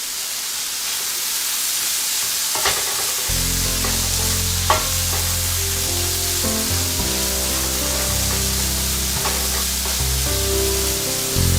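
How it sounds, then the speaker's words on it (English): Leftovers sautéing in a pan give a loud, steady sizzle and hiss throughout, with occasional stirring scrapes and clinks, alongside a low background tone that enters a few seconds in. "so here we are, sauteing everything"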